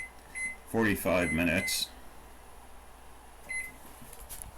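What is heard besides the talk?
kitchen timer being set, beeping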